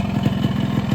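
Yamaha RX100 two-stroke motorcycle engine running close up, a loud, steady rapid low-pitched pulsing throb on a hilly village road.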